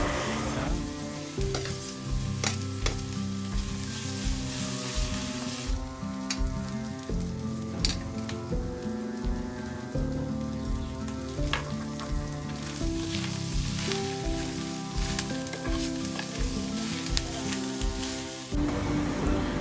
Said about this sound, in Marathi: इथे फोडणीला लसूण त्याचबरोबर मिरची आणि ना कांदा थोडासा तरसला